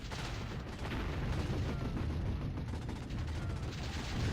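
Battle in the real-time strategy game Warzone 2100, with a dense, continuous roar of gunfire and artillery blasts blending into a heavy rumbling wash, loud and unbroken and free of speech.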